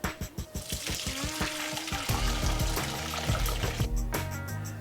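Vegetable stock with crushed root vegetables draining through, a steady pouring and splashing of liquid into a sink or pot, close and fairly loud, with no talk.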